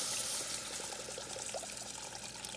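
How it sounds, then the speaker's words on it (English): Vegetable broth is poured into a cooking pot with tomato paste and sweet potatoes as a dish is prepared, a steady, close liquid pour running throughout with no speech. "Adding the vegetable broth in there"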